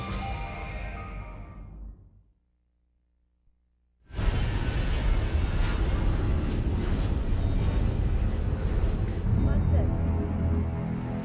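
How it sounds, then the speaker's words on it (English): A Boeing 767 ditches into the Indian Ocean off Africa's east coast: a loud, sustained roar of rushing air and water crashes in after a moment of near silence, continuing broadband and heavy for several seconds, with a voice heard under it. "It's a Boeing 767 slamming down in the Indian Ocean off the east coast of Africa"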